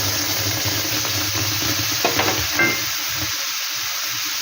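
Mango paste is stirred into semolina frying in a pan for suji pulao, giving a steady close sizzle under scraping stir strokes, with a few louder clatters midway.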